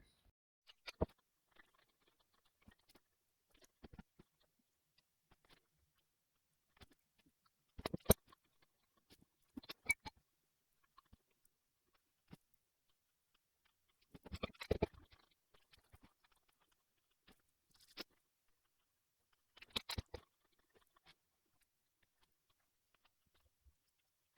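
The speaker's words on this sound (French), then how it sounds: "j'ai fini de mâcher" Food being chewed slowly and carefully close to the mic, producing sparse, quiet crunching bites and mouth sounds separated by long silent pauses.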